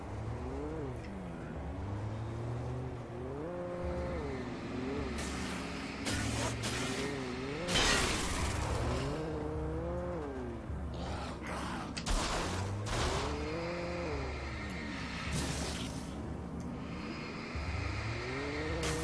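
A vehicle engine in the video game Alan Wake rises and falls in repeated revving swells, with gear-like pitch sweeps and occasional sharp hissing bursts, steady and moderately loud throughout.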